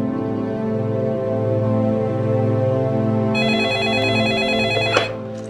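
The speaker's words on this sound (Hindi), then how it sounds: "किसे फोन लगा रही है तू मिनी?" A telephone rings loudly and steadily in repeated electronic bursts, with a brighter layered tone joining partway through before a sharp click cuts it off at the end.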